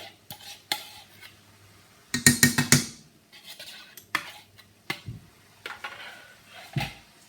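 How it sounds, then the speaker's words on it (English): Onion, peppers and courgette cooking in a pan, heard as clattering utensil scrapes and stirring knocks against the pan, with a dense burst of metallic clinks midway and intermittent quieter taps around it. "And that wants to be fried for another 5 minutes or so to brown the veg off"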